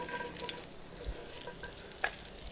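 Green beans go into a hot, oiled pan and fry with a quiet, continuous crackle and a few sharper pops, heard alone without talk.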